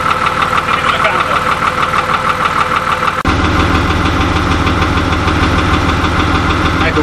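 A Fiat Agri 180-90 tractor engine runs loud and close, holding a steady, throbbing knock that deepens partway through as the load or revs shift.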